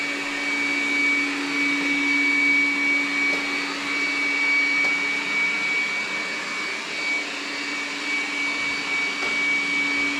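A Dreame Bot D10 Plus robot vacuum cleaner works its way around a room, making a constant whirring motor hum with a steady high whine that stays close and even throughout.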